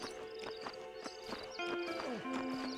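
A horse in the Red Dead Redemption video game whinnies and snorts over a few clip-clopping hoof steps, close and fairly loud across a busy game soundscape with no speech.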